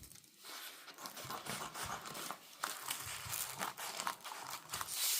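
Scissors cutting through transfer tape for hotfix rhinestones, close up: crinkly, crisp snipping and rustling in uneven bursts, with no voices.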